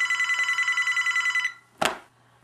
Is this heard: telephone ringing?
yes